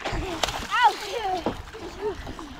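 People splashing into a village river to swim, sloshing water and splashes close by amid outdoor background noise, with a person talking over it.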